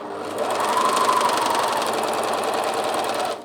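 A Bernina 1100DA serger sews a gathered rolled hem, running in one continuous fast burst with a close, rapid mechanical whir and rattle that starts abruptly, holds steady for about three seconds and then stops, with no speech.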